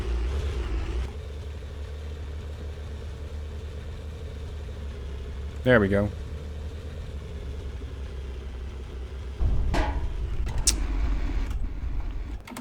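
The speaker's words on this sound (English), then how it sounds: "Oh, my engine's gonna give out." A super heavy tank's engine in Sprocket labours at a low, steady rumbling drone, with a brief rising whine midway and a louder surge near the end; a voice speaks briefly.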